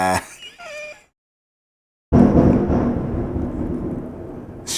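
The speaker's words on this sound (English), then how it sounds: "Shit is thundering up in here." A heavy roll of thunder breaks in suddenly after a brief silence, a loud, broad rumble that lingers and slowly fades. Faint tonal sounds come just before it.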